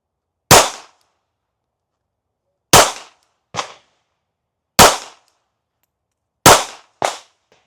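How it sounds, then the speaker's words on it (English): Six pistol shots from an S&W Bodyguard 2.0 ring out at a shooting range, loud and close, in uneven pairs and singles with silence between them. "I think I must have took 6 shots"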